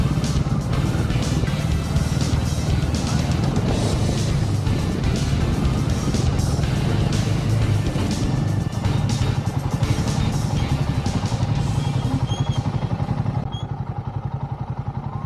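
A motorcycle rides along a rough Himalayan road in Spiti Valley, its engine a loud, continuous roar mixed with wind rush and rattling clatter that holds steady throughout, easing slightly toward the end.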